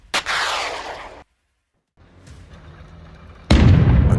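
Bradley fighting vehicle opening fire on a Russian BTR: a sharp close shot with a ringing tail, a brief silence, a low distant rumble, then another heavy, loud blast.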